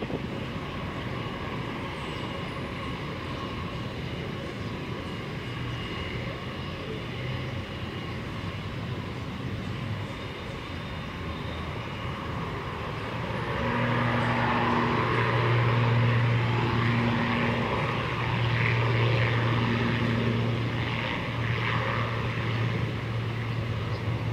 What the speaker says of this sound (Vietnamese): Mời mọi người chiêm ngưỡng pha cất cánh của ATR-72 chở hàng này nha